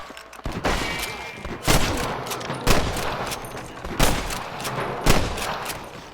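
Gunfire in the video game Red Dead Redemption: a run of loud, sharp shots, about five spaced roughly a second apart, each cracking out over a busy background of game ambience.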